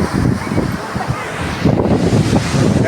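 Ocean surf rolling in at Kovalam beach on the Arabian Sea, a steady broadband wash with swelling pushes of breaking waves and wind buffeting the microphone, carrying on continuously from start to end.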